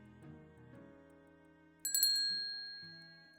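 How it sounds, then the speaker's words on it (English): A small bell at a cafe entrance door gives one bright ring that slowly fades, set against soft background music. "the bell at the cafe entrance rings"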